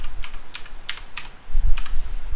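Quick, crisp clicks of fingers typing on a computer keyboard, with irregular bursts of keystrokes close by and a low background hum, and no voices.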